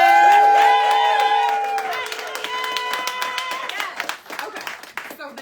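Crowd at a Harris & Walz political rally cheering and clapping, loud and close at first, then fading into scattered claps and whoops, with voices mixed in.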